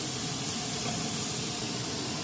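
Diced onion frying in oil in a pan for a Puerto Rican pastelon: a dense, steady, close sizzle and hiss that fills the short moment without a break.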